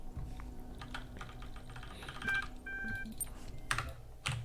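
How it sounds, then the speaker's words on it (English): Quiet key presses on an elevator control panel in the puzzle game The Talos Principle, a series of irregular soft clicks with a few short electronic beeps, faint and alone. "I'm going to unlock floor 3 by typing in the super secret password"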